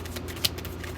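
Tarot cards slid and shuffled by hand to draw the next one, a soft papery rustle with one sharper snap in the middle, heard close over a low background hum.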